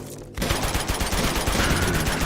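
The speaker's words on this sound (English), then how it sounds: "Just keep shooting!" Rapid automatic gunfire from the Uncharted 2 video game, loud, dense bursts of overlapping shots that start abruptly after a brief quiet moment and rattle on continuously.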